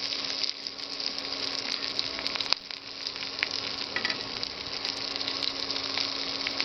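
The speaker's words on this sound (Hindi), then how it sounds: "जैसे आप पूरी तरह से तल लें हरे मिर्च व लहसुन को" Green chillies and garlic fry in hot oil for a radish dish, a steady, close hiss and crackle that runs throughout with a faint steady hum beneath and a single sharp knock partway through, no voices present.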